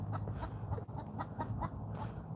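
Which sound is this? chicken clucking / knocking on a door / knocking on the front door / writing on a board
chicken clucking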